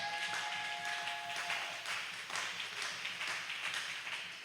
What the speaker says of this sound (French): Acclame d'abord très fortement pour le Lord.